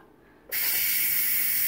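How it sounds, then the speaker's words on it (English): An Instant Pot pressure release: a loud, steady hiss of escaping steam bursts on abruptly and continues close and unbroken, with no talking over it. "Get the steam out."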